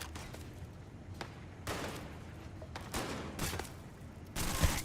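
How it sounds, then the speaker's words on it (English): Video game gunfire in Starfield, with several sharp shots and short bursts in an uneven rhythm over a low background rumble. "who else is shooting at me?"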